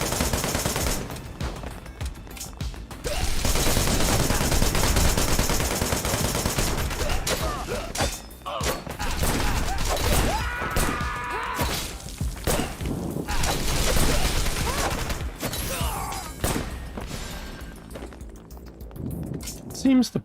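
Rapid bursts of pistol gunfire in the video game Wanted: Dead, sharp repeated shots layered with game music and effects across the whole stretch, with voices talking over the action at times.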